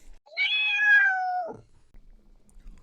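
A cat named Charlie gives one clear, drawn-out meow close to the microphone, rising then falling over about a second, followed by quiet room sound.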